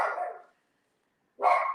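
A household dog barks twice indoors, loud and close, with a short, clear pause between the two barks.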